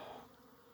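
Honeybees buzzing at the hive, a brief, faint, steady drone that fades slightly toward the end, with no voices.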